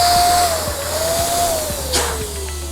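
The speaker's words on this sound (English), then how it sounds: "I'm gonna go ahead and use my electric pump." A steady electric pump inflating latex balloons drones loudly and close up, its pitch sliding slowly downward as each balloon fills, with faint soft taps ticking in the background.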